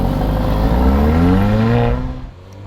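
An 8-cylinder 4000cc twin-turbo sports car engine growls loud and close, a steady rumbling idle whose pitch rises slightly before it fades away at the end.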